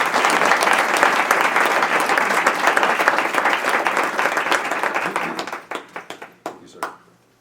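Audience applause welcoming Dr. James Merrill to a school-board meeting, dense and steady clapping from a crowd that fades out into a few scattered final claps.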